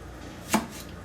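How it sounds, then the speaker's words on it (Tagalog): A single sharp knife chop on a cutting board, one crisp close thud against a quiet background. "Hiwain lang natin ng maliit na part."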